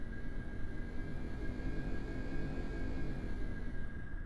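Jet aircraft roars steadily down the runway during takeoff in Kerbal Space Program, a Sukhoi PAK FA-style design, with a constant loud engine drone and a high whine over broadband rumble and no voices.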